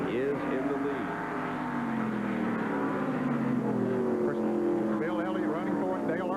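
NASCAR stock cars race at Sears Point Raceway in 1989, engines droning loud and steady with rising and falling pitch as they pass, under continuous race commentary.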